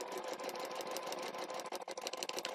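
A sewing machine stitches along a line, a fast, steady mechanical whirring chatter of rapid needle strokes, close but fairly quiet, with no voices.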